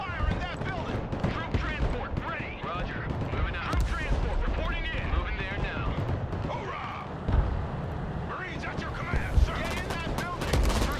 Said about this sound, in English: We are taking some fire here.